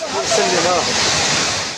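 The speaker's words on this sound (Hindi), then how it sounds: "गलियों में पानी ऐसे बह रहा था कि मानो वो सड़क नहीं बल्कि नदी हो" Loud, continuous roar of floodwater surging through the streets of Safi, Morocco, heard up close as a dense rushing wash with faint voices underneath.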